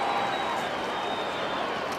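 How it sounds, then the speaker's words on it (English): A crowd roars at a 1994 Canterbury versus Canberra rugby league match, a dense, steady wash of massed voices filling the full two seconds at constant loudness. "That brings a roar from the crowd"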